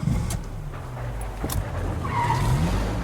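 A car driven off carelessly in the video game Rue Valley, its engine droning low as tires squeal briefly, the sound receding with a rising whine.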